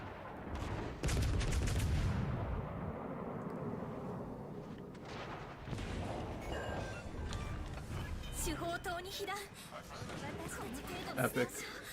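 Warship guns firing in World of Warships: Legends, a dense burst of booming salvos followed by rumbling explosions and scattered shots, with a voice talking over the game sounds.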